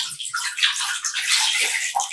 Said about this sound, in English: rinse it with the clean water